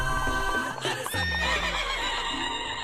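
A horse neighs loudly and close, a single drawn-out whinny with a quivering, shaking tone, under a music-like background bed and with no voices.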